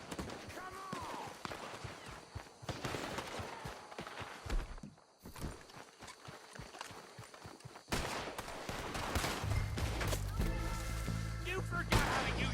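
Gunfire in a Red Dead Redemption 2 shootout, repeated sharp shots popping through a dense, busy mix with hoofbeats and shouting voices, steady and fairly loud throughout.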